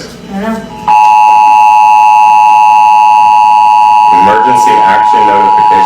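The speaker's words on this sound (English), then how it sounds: "Emergency action notification." A loud, steady emergency alert broadcast tone holds for about three seconds, with people talking just before it starts and again after it ends.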